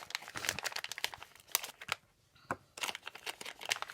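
Bag holding washi tapes crinkling and rustling close by in irregular bursts, with a brief quiet pause midway.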